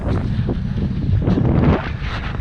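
Strong gusting wind of a dust storm at Burning Man roars and buffets a microphone in a continuous loud rumble, with no voices.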